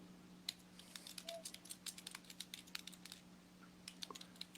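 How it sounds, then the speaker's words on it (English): Rapid keyboard typing, a steady run of light clicks with a few louder strokes, close and quiet over a low electrical hum, with no voices. "Who's typing?"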